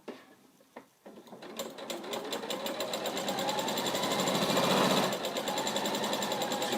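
A domestic sewing machine straight stitches fabric for an NHS scrubs bag, starting with a few slow clicks then building into a rapid, rhythmic, steadily loud mechanical whir close by, easing slightly toward the end.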